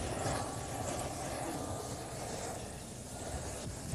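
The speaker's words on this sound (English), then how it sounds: "We're on our way back to the helicopter." A helicopter on the Cornish coast near Mousehole, its steady rotor and engine roar loud and close throughout, filling the clip without a break.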